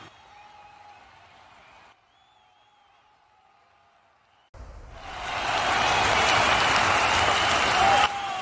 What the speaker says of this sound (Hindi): जॉर्ज के मंच पर आते ही दर्शकों ने भरपूर तालियों से उसका स्वागत किया।